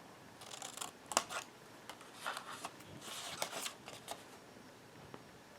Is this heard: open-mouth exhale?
no